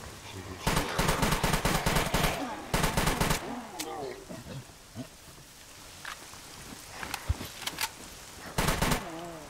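A video game machine gun fires in several bursts of rapid shots, loud and close, with quieter stretches between them where a voice talks.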